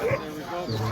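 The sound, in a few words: Northern Whites sled dog team barking at race start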